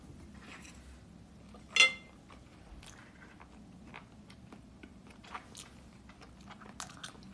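A bite into crispy tangsuyuk, Korean sweet and sour fried pork: one sharp, close crunch, followed by faint, soft chewing sounds scattered over several seconds.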